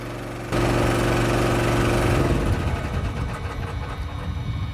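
Steady drone of the engine on a QD3000 Quick Draw mixing and loading system, starting abruptly and running loud and continuous with a rough mechanical hum that grows busier toward the end.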